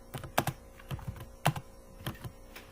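Keys clacking on a computer keyboard while code is typed in a C++ programming session, a quick cluster of strokes followed by scattered single taps with short pauses between, close and clear with no talking.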